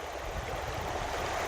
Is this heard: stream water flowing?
yes